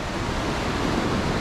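A river running high with lots of water near Mostar in Bosnia and Herzegovina, a dense, steady rushing roar that is loud and close, with no voices.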